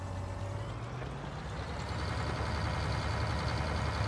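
A big tractor in Farming Simulator 19 hauling heavy machinery up an incline, a continuous low engine rumble with a pitch that rises slightly and gets fuller toward the end, no voices.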